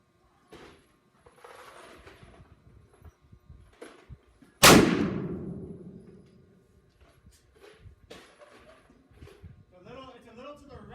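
A single loud, sharp shot from a Henry 45-70 lever-action rifle cracks out and rings off in a long decaying boom, set between stretches of quiet talk and small handling noises.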